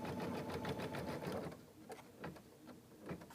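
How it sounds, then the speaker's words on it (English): A home embroidery machine sews an appliqué tack-down stitch through fabric for a memo board, rapid needle strokes chattering steadily and close, easing slightly in pace partway through with no talking. "And now it'll do the tack down stitch."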